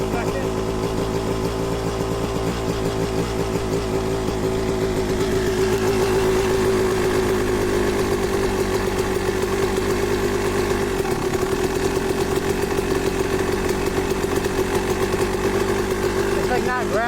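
A Kawasaki KX dirt bike engine idles steadily at close range for the whole stretch, a rough, even mechanical hum that dips briefly near the end, with people talking over it.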